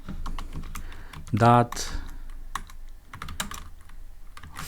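Keys on a computer keyboard clatter in quick, irregular bursts of close, crisp clicks. A short spoken word interrupts partway through.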